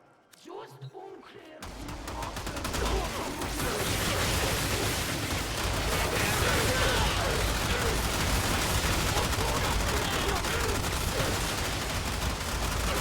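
Gunfire in the video game Warframe: after a short quiet opening with a few sounds, a heavy, continuous roar of rapid shooting and blasts fills the rest, loud and unbroken.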